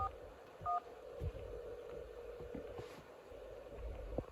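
Telephone keypad tones beep as a number is dialed on a phone in the Nancy Drew: Secret of the Scarlet Hand video game, two short tones over a low, quiet background hum, with no talking.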